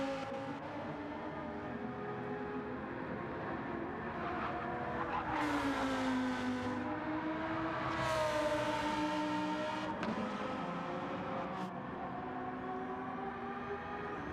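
A race car in Gran Turismo runs out of Monza's Ascari chicane toward the pits during a 6-hour endurance race, its engine droning loud and steady with rising and falling pitch through gear changes and brief squeals, and nobody talking.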